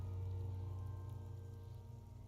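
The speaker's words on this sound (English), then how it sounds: "It's raining outside, light drizzle." Light drizzle falling outside a shed in the game Disco Elysium, a steady soft patter of rain over a low constant hum, continuous and unchanging throughout.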